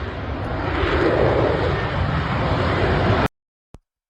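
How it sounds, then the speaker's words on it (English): An F-35 fighter jet hovering in mid-air gives off a loud, continuous, broadband roar for about three seconds, then cuts off abruptly into silence. "This is a F-35 stopping mid-air."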